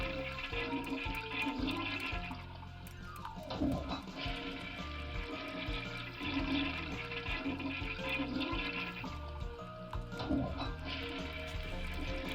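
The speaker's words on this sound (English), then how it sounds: "That's a lot of flushing." Toilet flushes repeat one after another in Ace Attorney Investigations, each a gushing, swirling rush of water with short gaps between, loud and close without talk.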